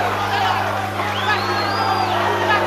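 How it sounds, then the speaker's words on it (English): A crowd at a karate match roars and cheers in a dense, steady wash of voices, with one rising whoop standing out above the din. "you can hear the crowd"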